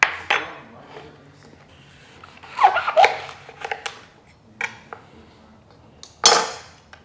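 Metal spoon scraping and clinking against the rinds of slightly tart passionfruit while scooping out the pulp, a few scattered light knocks and scrapes close by with quiet gaps between, no talking.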